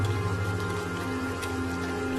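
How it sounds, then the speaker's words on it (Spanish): Heavy rain falling steadily, a dense continuous patter with a low hum running beneath it. "cuando los escoceses llegaron a Irlanda, llovía intensamente"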